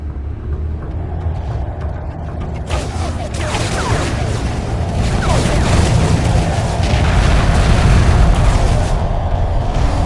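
A hyperspace gate blowing apart in the space strategy game Homeworld 2 Remastered, a sudden heavy boom swelling into a loud, sustained roaring rumble that builds and holds for several seconds.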